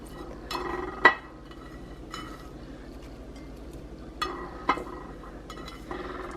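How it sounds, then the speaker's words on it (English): Ground turkey and spinach being mixed together in one big bowl, with scattered clinks and knocks of a utensil against the bowl and soft stirring between them, close and fairly quiet. "I'm gonna go ahead and get all the spinach in there. We're gonna mix everything in one bowl."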